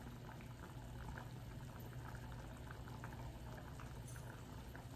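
A pot of water heating for rice rolls toward a boil, giving a steady, dense bubbling hiss that holds evenly throughout, close and moderately quiet with no talk.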